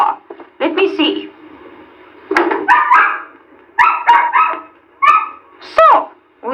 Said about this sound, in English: It is in truth a dog scratching on my classroom door.